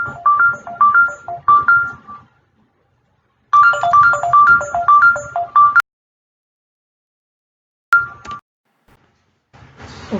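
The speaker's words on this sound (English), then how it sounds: "I had a phone call." A phone ringtone for an incoming call plays as repeated melodic bursts of bright tones, stopping, resuming, then cut off abruptly, with a brief final chirp; no talking.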